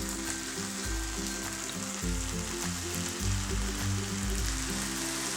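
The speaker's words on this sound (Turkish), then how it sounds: "Ve şimdi ılık olan şerbetimizi ekliyoruz." Warm syrup poured over hot kadayif pastry just out of the oven, giving a steady, close sizzling hiss that lasts throughout over low, droning background tones.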